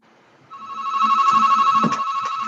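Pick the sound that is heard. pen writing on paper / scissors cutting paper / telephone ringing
telephone ringing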